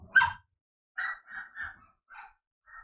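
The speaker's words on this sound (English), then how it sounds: "apologize if you could hear the dog. She was barking at something." A female dog barks indoors in a quick series of about six short barks, the first loudest and the rest evenly spaced and slightly softer, moderately close.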